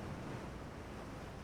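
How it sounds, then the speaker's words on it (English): Ocean waves wash against a ship in the naval game Ultimate Admiral: Dreadnoughts, a faint, steady rushing of surf and wind with no voices. "These are calm waves?"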